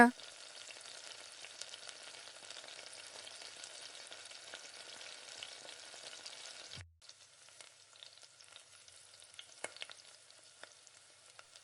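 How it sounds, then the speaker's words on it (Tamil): Onions with curry leaves and mint sauté in hot oil, a soft continuous sizzle with faint stirring scrapes, briefly cut off before the crackle resumes. "இப்போ கருவேப்பிலை கொஞ்சமாக புதினா எடுத்து இது கூட சேர்த்து நல்லா வதக்கி விட்டுக்குங்க"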